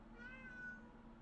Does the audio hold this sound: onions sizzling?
no